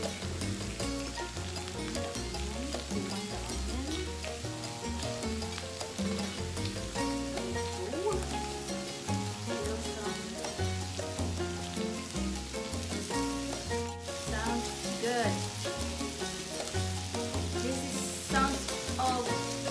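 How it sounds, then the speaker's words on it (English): Garlic sizzling on a grill for Korean samgyeopsal, a continuous crackling fry that sits close and moderately loud, with music running throughout and no talk. "ihawin din natin yung garlic. Let's grill"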